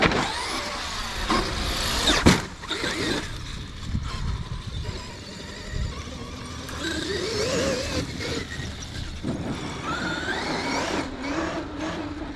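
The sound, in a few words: Traxxas X-Maxx 2.0 RC truck driving past after a jump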